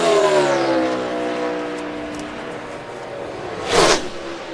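A NASCAR Sprint Cup stock car on a qualifying lap at Charlotte sweeps past with a loud engine whine that falls in pitch, followed by a sharp rushing burst of another pass.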